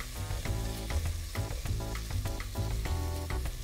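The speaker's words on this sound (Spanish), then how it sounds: "Vamos a esperar que ella se sofría un poco para luego ingresar entonces nuestra cebolla y nuestro ajo." Ingredients sauté in a pan for pumpkin rice before onion and garlic go in, a close, continuous sizzle broken by regular rhythmic scraping strokes of stirring.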